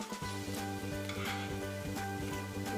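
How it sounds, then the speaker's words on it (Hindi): Poha and aloo cutlets frying in a little oil, a steady close sizzle with faint rhythmic scraping or stirring in the pan and a low humming tone underneath. "दूसरी साइड से भी 1 मिनट के लिए हमने फ्राई कर लिया है।"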